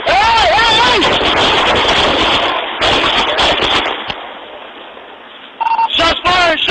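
Gunshots fired during a police pursuit near a trailer park, sharp loud cracks scattered among frantic shouting voices and electronic tones at close range.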